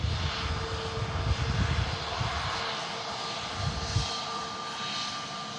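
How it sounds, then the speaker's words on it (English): An Airbus A320neo arriving at Manchester Airport from Santorini gives a steady distant jet engine roar, with low rumbling swells and a faint whine. "this aircraft in from Santorini, an A320 Neo, a 4-hour flight"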